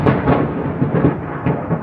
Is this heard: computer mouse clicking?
no